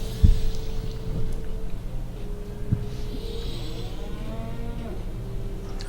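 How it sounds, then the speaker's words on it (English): A cow moos in the Sam & Max adventure game, a long low lowing call over steady background hum, with a soft thump near the start and no one talking. "The cow returns."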